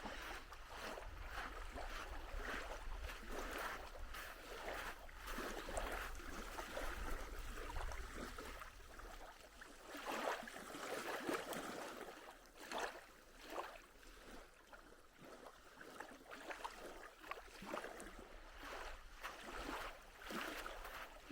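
Gentle water laps and washes onto a sandy beach at Shoshone Lake in Yellowstone, a steady soft rush with repeated small wave surges close by and no voices.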